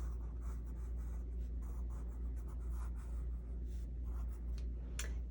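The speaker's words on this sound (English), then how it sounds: "I'm going to draw just a couple of little mountains here." A marker or pencil drawing little mountains on an art chart: steady scratchy strokes in short repeated bursts, close and fairly faint over a constant low hum, no talk.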